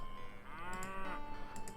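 A single drawn-out cow moo from the video game Lords of the Realm, clear and fairly close over a faint steady background, with a light tick or two afterward.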